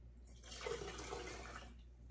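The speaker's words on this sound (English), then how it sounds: "I'm just pouring out a cup of vinegar" Vinegar poured through a funnel into a container, a soft rushing stream of liquid that starts, runs for about a second and a half, then fades, faint and close.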